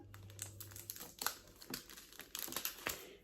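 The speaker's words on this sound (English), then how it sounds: "I actually cut open the top of the pack" A plastic pack of diamond painting drills is cut open, giving a run of quiet, close crinkling and snipping rustles with small sharp ticks spread across a few seconds.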